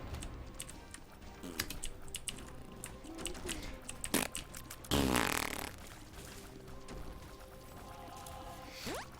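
A baby passes gas in a short, wet, sputtering burst midway through, set among faint scattered clicks and soft rustling in a quiet room.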